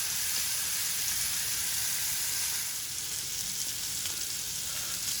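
Lamb chops sizzle steadily on a grill, a close, even crackling hiss that holds at the same level throughout with no voices.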